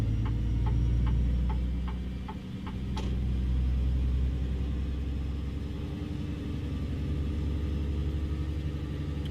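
A truck with a 13-speed transmission cruises through a neighborhood, its engine a steady low rumble under a quick series of regular ticks from a turn signal.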